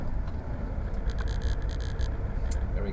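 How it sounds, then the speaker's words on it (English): A 2015 Mack CXU613 four-axle truck pulling a three-axle float trailer rumbles steadily from inside the cab, a constant low engine and road drone with faint intermittent high ticking. "Mac CXU613, 4-axle, pulling a 3-axle float trailer."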